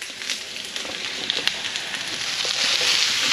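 Mushrooms, onions and garlic frying in butter in a pan, giving a steady close crackling sizzle with small pops throughout that swells slightly louder toward the end, no voices.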